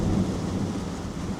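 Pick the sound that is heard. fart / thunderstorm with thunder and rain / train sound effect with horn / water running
thunderstorm with thunder and rain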